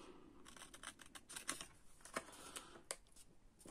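Soft, close snips of paper being cut for a pop-up scrapbook album, a series of quick irregular cuts with faint rustling between them, no voices.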